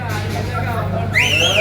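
A person whistles a rising, wavering tune near the end, under steady background murmur and chatter.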